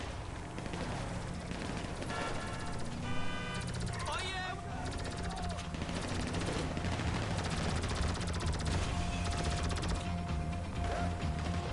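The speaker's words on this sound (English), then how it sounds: "I'm getting shot at now." Dense gunfire in Grand Theft Auto 5, continuous bursts of automatic shots amid loud game noise, with voices talking over the shooting throughout.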